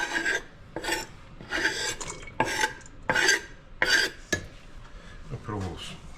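Garlic scraped and stirred in a pan for shrimp scampi, a close, rhythmic series of about eight rasping utensil strokes against metal, evenly spaced, with faint sizzle between.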